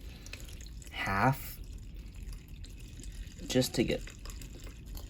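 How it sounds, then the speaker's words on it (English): Water poured from a small jug into aquarium soil, two short splashing pours with a gap between them, heard close up. Someone speaks briefly in the background. "I just have this little jug here of water. I'm just gonna fill up whatever I can"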